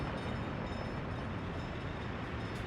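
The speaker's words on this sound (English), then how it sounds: "So here's my waste train." A freight train hauling waste rolls along steadily in a city-building game, a continuous dense rumble with no distinct clacks or breaks.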